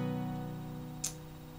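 An acoustic guitar chord, capoed at the fourth fret, rings out and sustains as it slowly decays, with a brief bright string or finger noise near the end.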